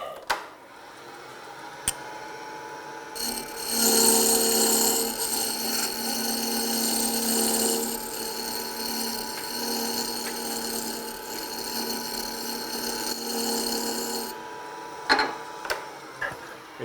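A Boxmaster negative rake scraper drawn across wood on a lathe, producing a steady, harsh scraping whine for about ten seconds, close and loud, with quieter knocks before and a few sharp taps after.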